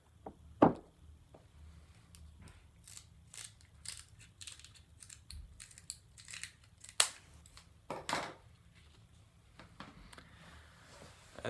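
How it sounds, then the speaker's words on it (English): A BMX bicycle tire is cut with a blade in a handful of sharp, separate crunching snips spread over a quiet background, a few of them louder and closer than the rest. "I'm going to end up cutting off about this much of my tire"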